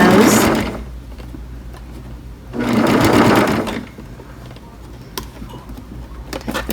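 A sewing machine stitches a curved seam in two short whirring runs, close and clear, with quiet handling pauses between and light clicks near the end.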